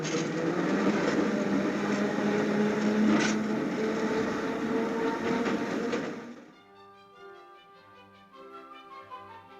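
Two-axle tram motor cars running on an urban network make a steady rolling rumble with faint clanks for about six seconds, then fade out as music takes over.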